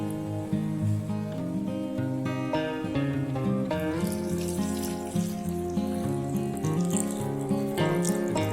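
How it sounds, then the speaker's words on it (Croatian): A mix of cola, vinegar and salt is poured into a spray bottle in a steady, gurgling trickle of liquid, close up and continuous, with music playing underneath. "I ulijte u bočicu s raspršćivačem."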